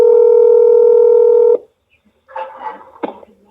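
A telephone handset plays a steady dial tone for about a second and a half, then falls silent before a burst of ringback or dialing tones and a sharp click, loud and close.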